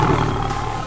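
A cartoon lion roars once, a loud sustained growling roar that fills the whole second with no voices over it.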